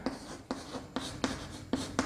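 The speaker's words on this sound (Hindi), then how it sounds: "तो मैं यहाँ पे एक पॉइंट लिखता हूँ बॉक्स में" Marker or chalk strokes tap and scratch on a classroom board in short, uneven bursts, close and fairly faint, with no talking.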